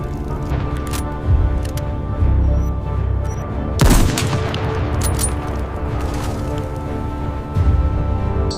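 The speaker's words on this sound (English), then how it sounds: "Explosions tore the silence, sending snow and splinters into the air" Explosions in a snowy WW2 battle, a sound effect of repeated rumbling blasts and crackling gunfire with one sharp, loud boom near the middle, set against continuous low battle noise with no voices.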